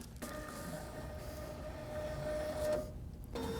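An M100 ballot tabulator pulls in an inserted ballot with a steady mechanical whirring feed, a printer-like motorized hum that runs for about three seconds before cutting off.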